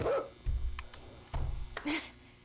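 A dog in the video game 7 Days to Die gives several loud, close barks and yips in irregular bursts, with whiny, whimpering edges between them.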